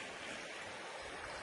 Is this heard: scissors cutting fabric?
no